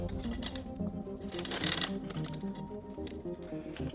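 A bicycle chain runs over the largest front chainring while a new chain is fitted, giving a dense, steady metallic rattling and clicking of links close by, with no voices.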